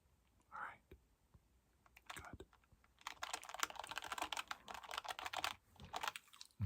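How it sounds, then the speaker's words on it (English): Close, crisp typing on a computer keyboard, with a few isolated keystrokes giving way to a dense run of rapid clatter, soft whispered speech nearby in an intimate ASMR setting. "So every time you speak, I'm going to type it down"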